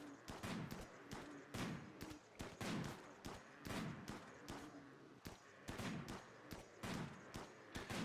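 Rapid bursts of video-game gunfire crack out in repeated volleys, loud and close, with short gaps between clusters of shots over a steady backdrop of rain in a squad combat game.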